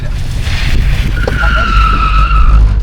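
A car slides sideways on wet asphalt during a drifting course, tyres squealing loudly with a rising, sustained screech over a low engine rumble, close and intense.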